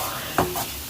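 Vegetables being stir-fried for chicken chow mein, a close sizzle with a couple of quick tossing scrapes in the pan, no talking.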